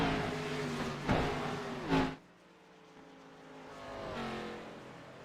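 Stock cars race under green flag at Iowa in a racing video game, engines roaring past loudly, one car surging by with a sharp rise and drop before the whine fades and another builds in the distance.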